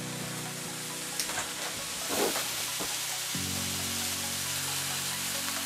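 Tender steaks sizzling in a well-seasoned pan, a steady broadband fry hiss with faint crackles and a low hum running continuously throughout, no voices present.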